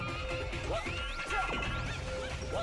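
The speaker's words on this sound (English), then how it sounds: "If you slow down time and then punch them, you will break their shield." Enemy shield shattering from a slow-motion punch in the Viewtiful Joe 2 video game, a loud crash with sweeping, warbling tones and swishes, dense and close over steady game sound.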